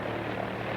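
A propeller airliner's engines drone steadily as it leaves after refueling, a continuous broad roar with low rumble that holds at a constant level throughout, with no voices.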